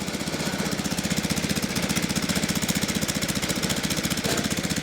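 A Craftsman snow thrower engine runs with the auger engaged on its newly fitted auger belt, a loud, steady, rapidly pulsing mechanical drone that holds constant before cutting off abruptly.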